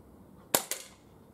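An Umarex Walther PPQ M2 spring air pistol with a chain magazine fires once with a sharp crack, then a pellet strikes a metal can a split second later, both close and brief against quiet.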